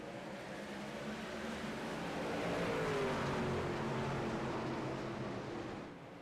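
Race trucks in iRacing at Bristol Speedway accelerate together on a restart, a dense rumbling engine drone that swells and holds steady before easing off, moderately faint with no voices over it.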